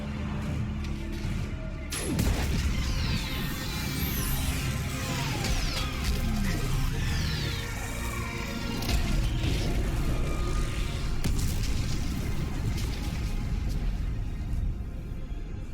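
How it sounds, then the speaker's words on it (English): Orbital strike blasts pound a live Reaper in Mass Effect 3, with a sudden crash followed by sustained heavy rumbling, crackling debris and metallic grinding that stay loud and dense throughout. "I need an orbital strike. We're clear! Fire at will!"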